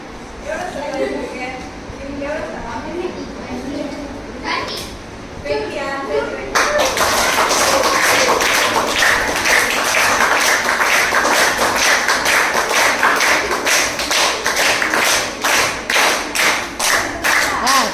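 Hands clapping or tapping in a steady, rapid rhythm during a counting game in a primary classroom, loud and continuous after a few seconds of children's chatter, with voices chanting along over the beats.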